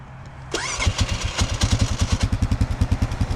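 An old $500 4x4 ATV with a rough-sounding engine catches after a short starter whir. It settles into a loud, close idle with a steady, lumpy putt-putt rhythm.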